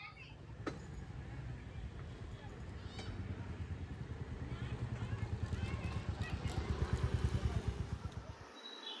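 Royal Enfield motorcycle fitted with an RD 350 style handlebar being ridden, its single-cylinder engine thumping in a steady rapid beat that builds in loudness, with a voice talking over it.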